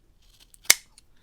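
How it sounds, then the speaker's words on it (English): A single crisp snip of scissors trimming craft material flush on a paper model starfighter cockpit, one sharp close cut in an otherwise quiet room. "I can trim it with scissors and trim it flush"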